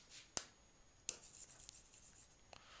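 During a power electronics lecture, chalk or a marker scratches and taps on a board: a few sharp tapping strokes and a brief run of quiet scribbling, faint and close, with no talk.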